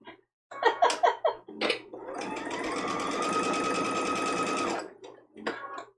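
A sewing machine runs steadily for about three seconds at a short 2.0 stitch length, piecing a woven-logs quilt block, framed by brief clicks and handling noises before and after.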